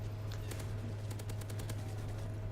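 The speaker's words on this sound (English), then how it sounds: "So right here, I'm just spam shooting just to back up." Rapid automatic gunfire sprays in bursts on the Seatown map in Call of Duty, sharp repeated cracks fired close over a steady low hum.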